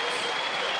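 A home crowd at a Hobart one-day cricket match between Australia and South Africa applauds Ricky Ponting's half-century, a dense steady wash of clapping and cheering for the whole brief moment.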